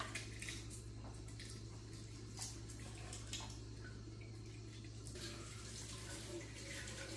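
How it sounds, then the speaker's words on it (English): A kitchen tap runs steadily while fresh organic parsley is rinsed under it, a faint continuous water hiss with occasional soft splashes and clinks over a low hum. "I'm going to go ahead and wash the organic parsley and slice it"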